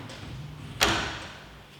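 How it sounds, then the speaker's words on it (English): The door of a garment sanitizing cabinet shuts with a single soft thud and short latch click, followed by a quiet fading resonance. "Once you've done that, you close the door."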